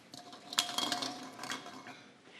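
Lottery balls rattle and clink as they are mixed in a cup for a volleyball Champions League drawing of lots, a short run of light plastic knocks that fades out.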